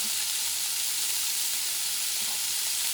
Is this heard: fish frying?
yes